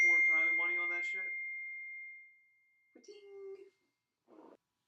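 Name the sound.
phone notification sound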